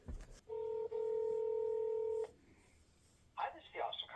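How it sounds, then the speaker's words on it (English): Telephone keypad dialing: a few sharp touch-tone beeps, then a long steady tone and, after a pause, brief bursts of ringing or line tones, all fairly loud and with no talk over them. "we're going to get ready and make us a phone call"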